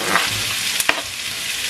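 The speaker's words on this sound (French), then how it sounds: "Un oignon rouge et 2 gousses d'ail pressées. Je vais faire revenir tout ça déjà." Red onion and pressed garlic fry in a wok with a steady, broadband sizzle, broken by a couple of quick stirring clacks near the middle. The sound is close, and no one speaks.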